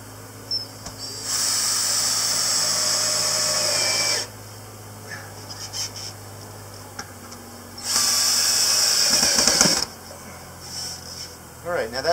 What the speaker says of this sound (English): So I'm going to go ahead and screw these guys in.